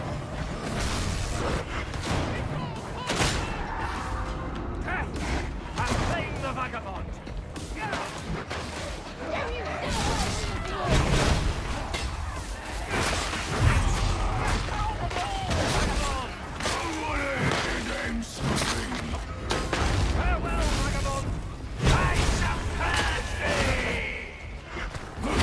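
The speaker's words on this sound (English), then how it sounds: "This boss is just shooting the piss out of me." Rapid gunfire from a boss fight in a video game, bursts of shots and whooshes crowding a loud, busy mix, with a player talking over the action.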